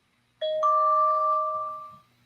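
A two-tone doorbell-style chime plays as a win sound effect, sounding loud and clear with a long ringing decay that fades out after about a second and a half.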